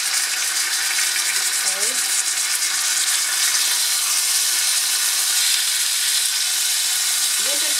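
A partially frozen Salisbury steak patty fries in a pan with a steady, close hiss and sizzle, while a voice briefly speaks over it.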